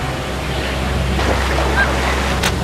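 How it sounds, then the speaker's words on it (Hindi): A large whirlpool in a cartoon gives off a rushing, surf-like roar of churning water with a low windy rumble, loud and continuous throughout. "पानी का बहाव इतना तेज क्यों है आखिर? ये एक बड़ा पानी का भंवर है।"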